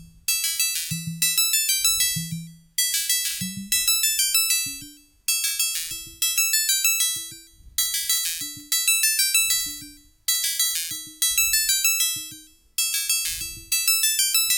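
Nord Micro Modular synthesizer oscillators playing the same E note through a fixed filter bank, sounding as a series of bright, bell-like tonal bursts that repeat about every one to one and a half seconds with sharp attacks and decaying tails, alone.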